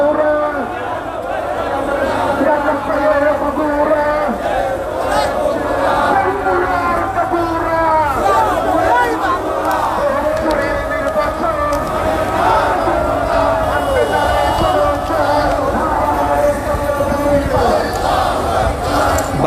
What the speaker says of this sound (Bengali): শত শত মানুষ এই বিক্ষোভ মিছিলে অংশগ্রহণ করেছেন এবং তারা স্লোগান দিচ্ছেন